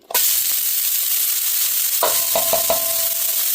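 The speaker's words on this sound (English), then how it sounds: "And then we're going to get our onions in the pan." Onions hit hot peanut oil in a pan and sizzle loudly and steadily, with a sharp burst at the start and a few clinks of a utensil against the pan partway through.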